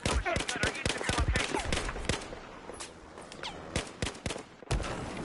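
Gunfire from Battlefield 4 gameplay, with rapid sharp bursts of shots, some close and loud, scattered across a busy battle soundscape, with a brief pause near the end before firing resumes.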